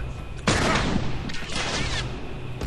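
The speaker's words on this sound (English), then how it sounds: "you'll see these guys get killed from Tommy's shots" Tommy fires at enemies in The Last of Us, giving loud, close gunfire as a dense rattling burst, then a second volley after a brief lull, with a reverberant tail.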